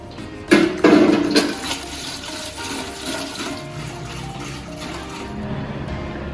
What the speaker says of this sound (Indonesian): kita memasukkan air sebanyak 5 liter